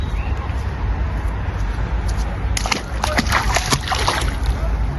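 Feet splashing and sloshing in water outdoors on a warm day, a run of light irregular splashes over steady background noise, midway through.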